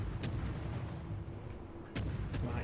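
Naval guns firing in a warship video game: deep booming shots with sharp onsets, one early and another near the end, over a steady low rumble of engine and sea.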